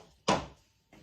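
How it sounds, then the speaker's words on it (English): A drawer slides along its runners in a campervan cabinet, with a single quick rolling swish that fades, then a fainter movement starting near the end. "I'm going to test the drawer runners"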